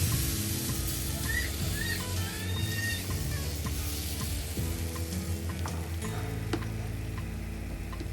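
Pancake batter sizzling steadily in a hot pan while thin lace pancakes fry, a continuous close crackle with faint ticks and clinks throughout and no talking.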